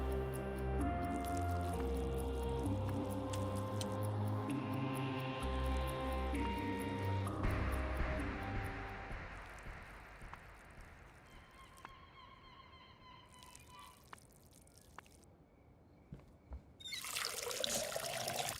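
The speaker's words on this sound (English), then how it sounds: "Let's top up the plant's water supply." Plants are watered in the video game Schedule 1, a soft continuous trickle and pour of water that runs under tonal game music, then thins to quieter dribbles and small splashes.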